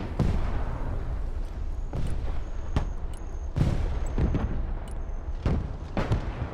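Called-in artillery fire in the video game Broken Arrow, with a string of heavy booms and blasts at irregular intervals about a second apart over a constant rumbling battle din.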